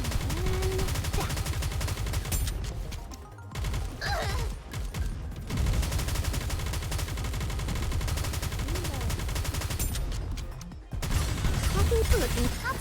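Rapid gunfire from Nikke: Goddess of Victory crackles almost continuously in dense bursts, pausing briefly for reloads, with some voice lines heard faintly over the battle.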